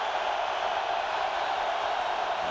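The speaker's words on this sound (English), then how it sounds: "The crowd gets noisy again." A football stadium crowd rumbles as a broad, steady wash of noise, loud and unbroken, with no distinct cheers standing out.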